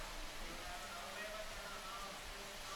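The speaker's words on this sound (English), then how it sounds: "the rain starts to tip it down out in the lineup" Heavy rain pours down steadily over the surf lineup at a Cloud 9 surfing contest in Siargao, making a dense, even hiss with no breaks.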